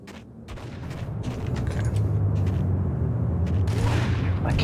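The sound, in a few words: gunfire from the video game Max Payne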